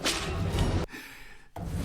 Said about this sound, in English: The plants are making a Catwoman whip noise